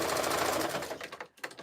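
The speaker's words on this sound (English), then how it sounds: "At the end of sewing the batting here" A sewing machine runs fast and steady, stitching through the batting of a jelly roll rug, a dense close mechanical chatter that slows and breaks into a few short bursts at the end.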